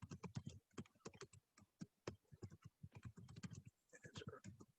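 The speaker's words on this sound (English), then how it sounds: "I'm typing kind of fast" Rapid, dense clicking of computer keyboard keys, fast typing with busy irregular bursts, close and fairly quiet, continuing throughout.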